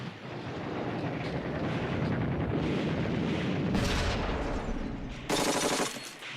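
Battlefield gunfire from a World War II German infantry assault on the French town of Sedan in the Ardennes, a continuous loud rattle of machine gun fire with sharper bursts breaking through near the end.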